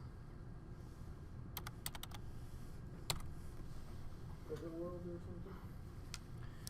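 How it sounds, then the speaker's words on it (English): Someone types on a computer keyboard at a desk, a quick cluster of clicks then a single sharp keystroke, faint against a steady room hum, with brief soft speech near the end. "We're going to type in terrazzo."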